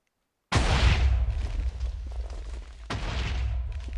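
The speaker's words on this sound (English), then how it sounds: "this is my TNT cannon." Minecraft TNT cannon firing in the video game: a sudden loud explosive blast rolls into a rumbling fusillade, then a second sharp detonation follows a couple of seconds later, with no talk.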